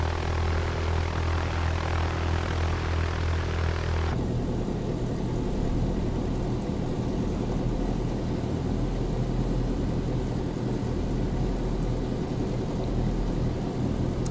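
A general aviation propeller aircraft in X-Plane 12 takes off with default Laminar engine sounds, a loud continuous propeller drone that shifts to a rougher, broadband roar partway through and holds steady, with no voices.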